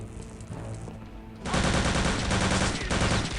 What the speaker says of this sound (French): La MP40 est une arme tellement efficace.